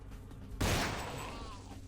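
A single sharp gunshot in The Final Nights goes off close by after a quiet stretch, then decays into a long reverberant tail that fades out gradually.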